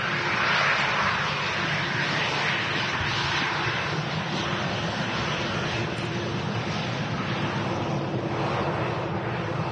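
A Jet2 jet airliner arrives at Manchester Airport from Leeds, a broad, steady engine roar mixed with wind buffeting the microphone, sustained and loud throughout.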